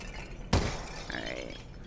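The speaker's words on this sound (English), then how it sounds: "I'm gonna shoot up there with those bottles" A single sharp gunshot hits bottles in Half-Life: Alyx, a VR game, and they shatter at once, followed by a brief glassy tinkle as fragments fall.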